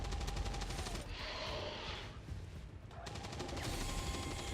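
Rapid gunfire crackles in XCOM 2: War of the Chosen as a suppression volley is fired, dense bursts at the start, a quieter lull, then the repeated shots resume at full strength.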